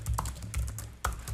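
Close, quick keystrokes on a Microsoft Sculpt keyboard, a string of crisp clicks with small pauses between bursts, with no voice over them.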